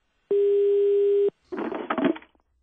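A telephone call to a farmer on Svínoy rings out: a single steady electronic tone held for about a second, followed by a burst of noisy crackling over the line; no speech is heard.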